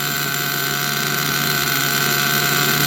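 An OFNA Twin Titan RC nitro truck engine idles steadily at close range, a loud, continuous buzzing drone with no break and no voices.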